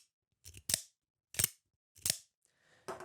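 Full-size RavenCrest Tactical Zhanshi OTF knife firing its blade open and retracting, three sharp metallic snaps with short pauses between them, close and loud in a quiet room, then a fourth starting at the end.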